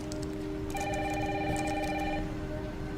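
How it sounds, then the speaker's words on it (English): A telephone rings in a video game trailer: one sustained electronic ringing burst in the middle, heard over a steady background hiss of rain. "Mom, phone."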